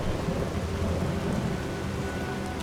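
Thunder rumbles through a steady rain in the Enderal video game, a lightning storm's low booming mixed with the constant hiss of falling rain, heard at a moderate level with no voices.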